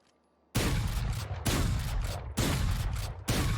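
A Judge shotgun in the game Valorant fires as fast as possible, four loud booming blasts at a quick, even pace, each ringing out before the next.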